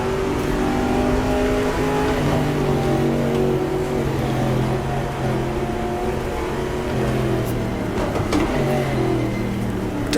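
Race car engine in the GTR2 racing game at the 1966 Daytona 24 Hours, downshifting to first gear: a steady loud engine drone with shifting harmonic tones and a brief rev change, continuous without speech.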